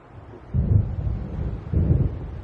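Deep thunder from a storm rolling in over the sea in Alan Wake, with two low rumbling swells heard at a distance, alone and without talk.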